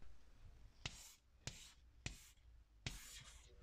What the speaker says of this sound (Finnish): kirjoitapa minulle tähän hyvää joulua